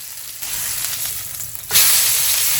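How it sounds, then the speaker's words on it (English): Meat fat sears and sizzles in a hot pan, a steady crackling hiss that swells abruptly louder partway through and stays strong to the end, close and without talk. "then start searing the fat that's on there"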